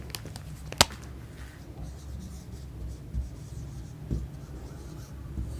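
A heading is written by hand on a board in a history lesson, heard as faint, scattered pen or chalk strokes with a few sharper taps against low room noise.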